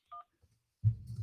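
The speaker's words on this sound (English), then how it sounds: "Don't punch in phone numbers that I can't" A single short keypad tone sounds as a phone number is punched in on a real estate cold call, followed after a pause by a louder low rumbling handling noise; no speech.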